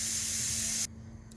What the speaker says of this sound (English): cool down my pressure cooker, and my meat is cooked to where I want it